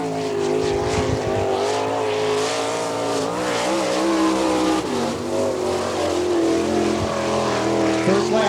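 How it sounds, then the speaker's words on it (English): A sprint race car turns a qualifying lap at Attica, Ohio, its loud engine droning steadily and close, pitch rising and falling through the turns for the whole stretch, with faint talk beneath it. "Qualifying right now, the Bow Collision sponsored car number 62 from Bluffton."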